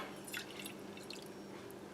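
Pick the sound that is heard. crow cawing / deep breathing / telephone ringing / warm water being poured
warm water being poured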